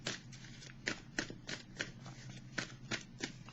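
Tarot cards being shuffled by hand in a quick run of crisp riffles and flicks, close and fairly loud, with no talking.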